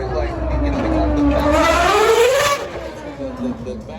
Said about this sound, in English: We're standing over in the paddock area as the RB7 is out there, that Red Bull Oracle Ford Racing RB7.